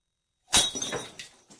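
A glass smashed for luck during a New Year toast: one sudden sharp shatter followed by a brief spray of tinkling shards, loud and close in an otherwise quiet room.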